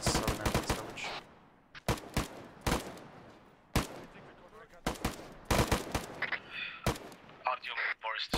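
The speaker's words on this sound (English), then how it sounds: "So Artyom was taking fire from the fields in southern end of this village." Gunfire in a modern military shooter set in Afghanistan: sharp, loud bursts of rifle and machine-gun shots in irregular clusters with quieter gaps, sometimes close and cracking, with faint radio-style voices between.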